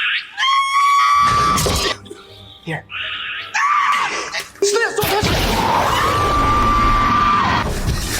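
Someone lets out repeated loud, shrill screams in a montage of Dungeons & Dragons movie scenes, cut together with crashes and booms, close and intense, with a brief spoken word in between.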